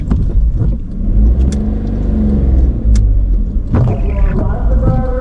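A car engine revs and rumbles steadily while climbing a foggy mountain road after heavy rain, close and continuous under a people's conversation, with a brief burst of louder acceleration near the end.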